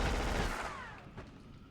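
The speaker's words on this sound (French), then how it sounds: "C'est le truc là qui a explosé." An explosion in the PS2 game Black is heard in its fading moments, a loud rushing roar that decays into a thin, sinking whistle. A small crack follows near the end.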